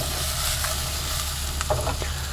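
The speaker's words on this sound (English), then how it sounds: "Just give it a little bit of a flip" Onions sauté in clarified butter in a pan, a steady close sizzle throughout, with a brief stirring shuffle as they are flipped near the end.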